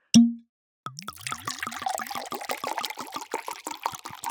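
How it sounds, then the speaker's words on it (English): A bottle of southern Rhône Valley French wine is opened with a single sharp pop, then poured in a quick run of close, rising glugs and gurgles. "to start the conversation, we're opening a bottle of wine"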